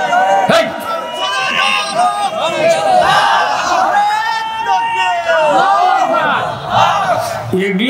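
A large crowd at an outdoor religious sermon gathering chants slogans in unison, loud and continuous, with rhythmic shouted phrases and overlapping voices throughout.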